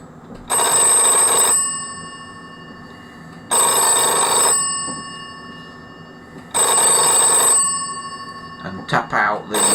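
An old telephone's bell rings in three long bursts of about a second each, loud and close, and a few short rattling taps on the hook switch follow at the end.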